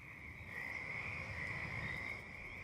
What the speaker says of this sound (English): you start to hear like an awful lot of echoing choruses of the frogs ribbiting